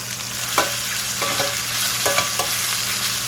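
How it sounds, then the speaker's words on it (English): Chicken fries in a pan with a constant close sizzle, broken by a few sharp stirring scrapes and clinks from a utensil, with no voices. "So you don't want to overcrowd your pan, but you definitely want to fry it"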